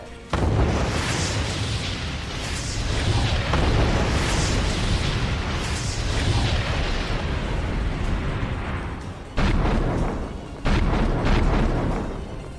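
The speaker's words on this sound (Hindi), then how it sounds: "राष्ट्रपति पुतिन की धमकी के बीच रूसी सेना का विस्फोटक हमला जारी है।" Russian bombardment in eastern Ukraine around Donetsk and northern Kostiantynivka, with heavy rumbling blasts and sustained roaring booms that fill the whole stretch, briefly dropping out before two more loud bursts near the end.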